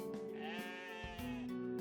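A goat bleats in the video game OneShot: a single sustained, wavering bleat, clear and close, heard alone with no talk.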